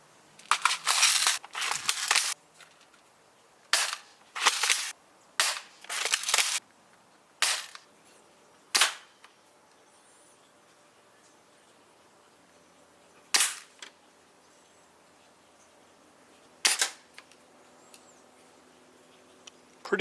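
A cheap $30 spring-powered airsoft rifle fires a string of sharp, snappy shots, some in quick clusters and others spaced several seconds apart, loud and close with quiet gaps between.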